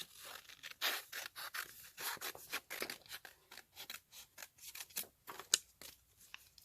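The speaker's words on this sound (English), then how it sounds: "And just quickly cut this out." Scissors snip steadily through a yellow paper label, a rapid series of short, crisp cuts close up with brief pauses between strokes.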